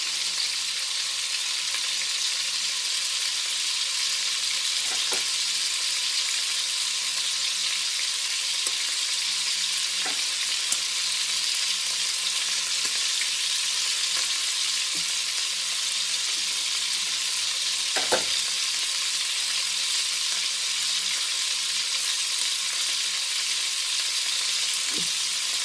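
Beef browns in batches in a pan with bacon, giving a steady, loud sizzle and crackle that lasts throughout, with a few brief scrapes or stirs.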